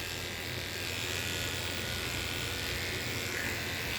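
Electric clippers shave around the rear of a small dog during a basic shave-down, giving a steady, close, continuous buzz with no break across the whole stretch.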